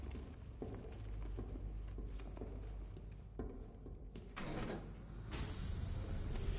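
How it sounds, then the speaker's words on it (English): A heavy vault door slides and shuts in a Batman video game, a low rumbling scrape with clunks and a final louder slam, close and steady under a constant mechanical hum. "Shutting the vault door will contain the blast."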